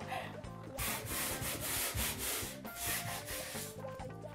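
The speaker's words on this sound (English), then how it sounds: "you're gonna actually sand the whole wall from top to bottom" Hand sanding of a painted interior wall ahead of repainting: steady, close back-and-forth abrasive rubbing in long continuous strokes, loud and rhythmic, with a brief pause near the start and no talk.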